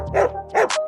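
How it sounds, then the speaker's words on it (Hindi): A dog gives two short, close barks in quick succession, loud and clear with a brief gap between them. "अगर कोई कुत्ता आपको देखकर भौंकने लगे"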